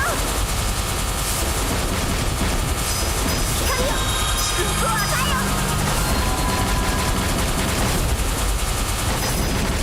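Enemy gunfire fills the air in Caladrius Blaze, a flying shooter on Nintendo Switch: a dense, loud, continuous barrage of shots and crashes layered over game music, with a voice occasionally speaking.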